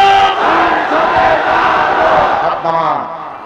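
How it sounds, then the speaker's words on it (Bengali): Large crowd at a Bangla Islamic religious gathering shouting a loud takbir chant in unison, a sustained roar of many voices that fills the space, briefly dipping before surging again. "আকাশ বাতাস মুখরিত করে জোরে একটা তাকবীর হবে"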